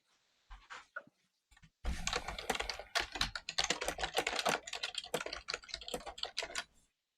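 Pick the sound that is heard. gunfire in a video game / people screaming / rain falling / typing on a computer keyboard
typing on a computer keyboard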